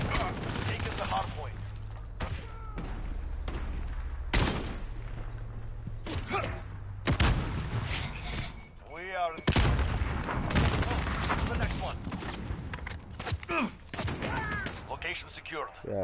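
FAL-like rifle in Call of Duty Modern Warfare firing repeated sharp, punchy shots in quick bursts amid mechanical clatter and other battle noise, with a player talking over the gunfire.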